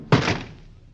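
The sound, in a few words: door kicked shut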